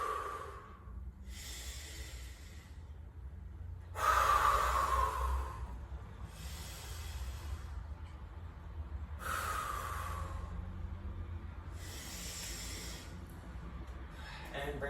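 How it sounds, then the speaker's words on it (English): Slow, deep breaths during a side plank yoga exercise, several soft airy inhales and exhales spaced a few seconds apart, close and quiet. "Deep breath."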